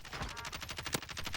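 Rapid bursts of automatic gunfire in the Warzone video game, a fast regular rattle of shots with one sharper crack near the end, fairly close and steady throughout.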